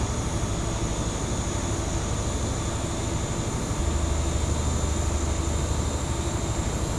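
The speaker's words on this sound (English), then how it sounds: "We are now departing from Paddington Platform 9" A First Great Western train in Train Simulator 2016 departs Paddington station, its engine a loud, steady rumble and drone that thickens partway through, with no voices.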